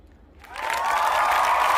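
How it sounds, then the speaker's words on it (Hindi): A group of schoolchildren in a classroom break into applause that swells quickly and holds as dense, steady clapping, fairly close and without talk over it. "सभी बच्चे आप अपने लिए तालियां बजाओ।"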